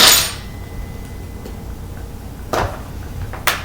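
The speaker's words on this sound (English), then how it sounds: "I'm gonna add a little pinch of pepper, if I can ever get this open." A pepper container is pried open in a home kitchen while soup cooks, with two sharp plastic clicks and snaps set apart against a quiet background.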